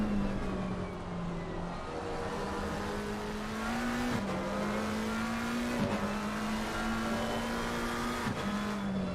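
A McLaren GT race car in a PC racing game at Circuit of the Americas drones at a steady engine pitch, dipping briefly under braking and climbing again on throttle several times, loud and continuous with no talking.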